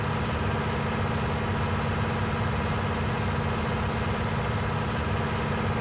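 A tractor engine in Farming Simulator 19 runs with a steady, loud, droning rumble and even vibration throughout, with no break or change in pitch.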